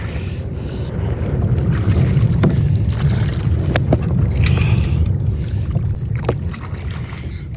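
Strong wind buffets the microphone on a lake during a fishing trip at Forest Lake in Pagosa Springs, Colorado, roaring steadily and loud, swelling and easing with gusts and faint water lapping.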